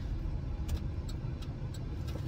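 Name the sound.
car driving, heard from inside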